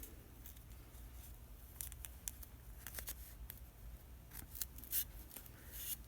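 Scissors snip through a bundle of yarn along the bottom edge of a piece of cardboard on a faux clover tassel maker, a run of quiet, irregular crisp cuts close by with no talking.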